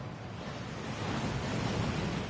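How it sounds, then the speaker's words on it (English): Rushing waterfall at Gringotts bank in the Hogwarts Legacy video game, a steady broadband roar of falling water that builds slightly, heard alone without voices. "That waterfall washes away all enchantments."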